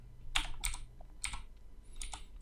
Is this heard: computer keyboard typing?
yes